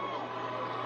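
A crowd gathered outside the courthouse after the Derek Chauvin guilty verdict cheers, a dense, steady roar of many voices with no break, heard at a distance as one continuous wash of noise.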